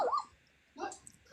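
Three-week-old puppies whimpering in a puppy pile, two short high whines a moment apart, soft and close, with faint room noise between them.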